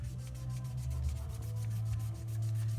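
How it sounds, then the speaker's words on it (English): Continuous rhythmic rubbing of sandpaper stripping an acrylic coating from motorcycle fork parts, close and steady with repeated strokes over a low background hum. "You're gonna wanna sand this stuff out. That's acrylic that you see there."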